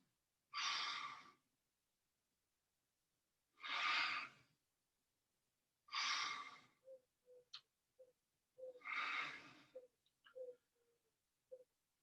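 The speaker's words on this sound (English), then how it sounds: "2 breaths." Slow, deep breaths during a wellness breathing exercise, four long soft exhales spaced a few seconds apart, close and quiet, with small clicks and ticks between them.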